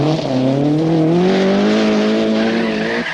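A rally car charges through a bend at speed on a special stage, its engine note rising and holding loud and close under a continuous harsh roar, with no voices.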